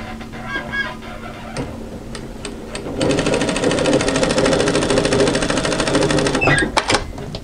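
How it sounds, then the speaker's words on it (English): A sewing machine runs a steady line of stitching through knit fabric across an overlocked seam, a fast even mechanical whir lasting several seconds, preceded by a few sharp clicks and followed by more handling clicks. "stitch a line of stitching from side to side directly through the overlocking line"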